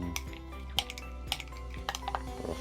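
A utensil stirs a thick chain lubricant mixture in a container for a Scott Bonnar 17-inch cylinder lawnmower, giving scattered metallic clinks and scrapes at an uneven rhythm, fairly close and quiet.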